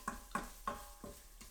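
Berbere spices and other ingredients in hot oil, stirred in an Instant Pot, a steady low sizzle with soft rhythmic scraping strokes about every third of a second, close and quiet.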